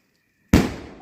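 During the Igas Bagwal festival in a Uttarakhand village, a lit firework shot bursts with one sudden, loud, close bang after a moment of near silence, then trails off in a fading rumble.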